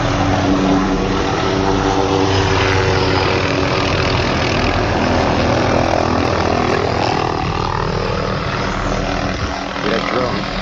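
Loud, steady buzzing drone from propellers overhead during a training exercise, continuous and droning throughout with no break.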